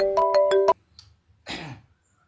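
A mobile phone ringtone chimes for under a second in a quick run of bright melodic beeps, then falls silent, followed by a brief cough close by.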